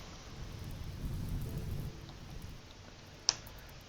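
Rain falls steadily with a low rumble of thunder rolling through the first half in RimWorld, then softens, with a single sharp click near the end.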